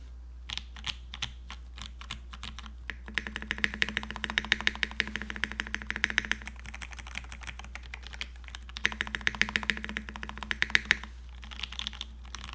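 An olive kei HHKB mechanical keyboard with JWK Pewter switches is typed on steadily, giving a dense run of close, crisp key clacks with brief pauses between bursts.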